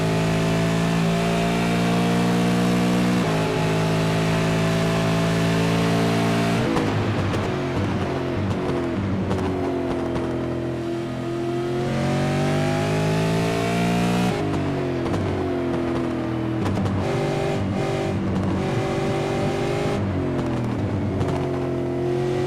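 Onboard race car engine at Sandown during the final lap, loud and close, holding high revs with repeated upshifts and downshifts as the pitch climbs and drops through gears; no talking.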